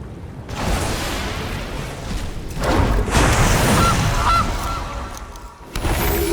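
Goose honks for the Gilded Goose card in the MTG Arena video game, a loud squawking honk sequence in a few bursts with brief gaps, stylized and game-like, no talking.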